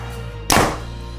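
A single sharp release from a PSE Levitate compound bow sends an arrow off in a backyard, a close, loud thump followed by a brief fading whoosh.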